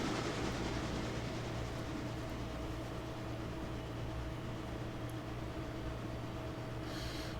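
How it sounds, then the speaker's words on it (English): A passenger train in the Railroader simulation game rolls to the end of its run, giving a steady low rumble with a hum underneath that stays even throughout. "passenger train is about to reach the end of its run"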